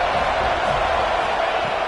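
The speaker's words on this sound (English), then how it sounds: "the crowd coming to life here, trying to help this defense down in the red zone" Football stadium crowd roaring for the defense in the red zone during an FSU versus Miami game: a loud, dense, sustained wash of cheering with no breaks.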